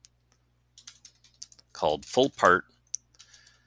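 Computer keyboard typing in short, scattered clicks during spreadsheet entry, with a voice speaking briefly in the middle.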